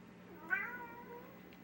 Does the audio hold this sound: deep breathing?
no